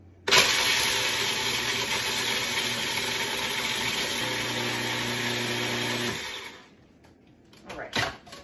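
A food processor pulses pie crust ingredients for a chocolate mousse pie, a loud steady motor whir running about six seconds before cutting off, followed by brief clatter and a short voice.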